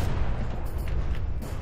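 A cannon in the From the Depths video game fires very fast, producing a dense, continuous rumble of rapid booming shots that blur together throughout.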